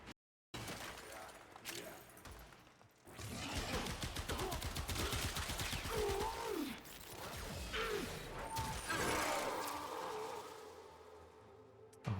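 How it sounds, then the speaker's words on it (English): Rapid bursts of gunfire from weapons in a video game fill most of the stretch as dense repeated firing, mixed with mechanical clatter and a voice talking over it. "you unload 80 bullets in the clip"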